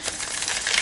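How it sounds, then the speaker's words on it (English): Tarot cards from a Divine Feminine deck being shuffled, a rapid crisp riffling flutter of slippery cards, steady and close throughout. "It shuffles amazingly"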